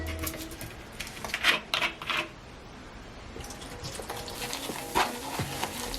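Aztec clay being stirred into apple cider vinegar in a bowl, with scraping, clicking stirring strokes that come in short bursts and then settle into steadier mixing, close and fairly quiet.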